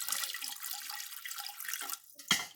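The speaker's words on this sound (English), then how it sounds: "I put in warm water" Warm water poured into a pressure cooker while making figgy pudding: a steady, close splashing pour runs for about two seconds, dips briefly, then ends with a final louder gush.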